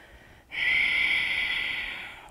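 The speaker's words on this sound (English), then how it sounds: "Big breaths." One deep, forceful breath drawn through the nose during a yoga exercise, starting abruptly and holding steady for almost two seconds, close and clear.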